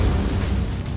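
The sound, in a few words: Dragon's Breath spell blast in video game Grim Tides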